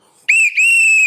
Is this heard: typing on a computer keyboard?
no